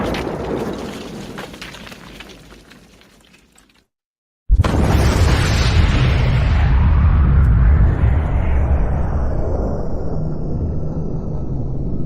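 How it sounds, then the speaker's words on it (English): Fireworks set off in a loud burst after a short silence, followed by a continuous roaring, crackling wash of explosions that stays close and dense to the end. "nice fireworks"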